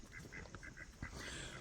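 A giant African gray goose, about ten years old, honking in a fast run of short nasal calls, quiet and somewhat distant against steady outdoor background noise on a farm.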